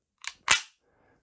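An Umarex Legends Luger P08 CO2 BB air pistol loaded with copper-coated lead BBs fires, giving a sharp click followed by a louder snapping crack, close up and then silent.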